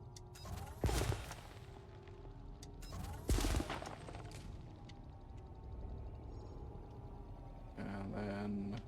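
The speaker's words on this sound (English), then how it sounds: "Using the old rock shotgun." Heavy blasts from a rock shotgun fired in Elite: Dangerous, two loud booming shots a few seconds apart over a constant low rumble of engine and space ambience, followed by a rising roar near the end.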